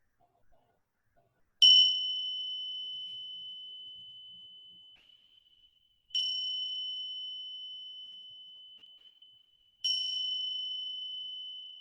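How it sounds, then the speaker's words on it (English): A meditation chime rings three times, several seconds apart; each strike is a clear, pure metallic tone that slowly fades, with near silence around the strikes and no talking. "you'll hear a chime ring 3 times"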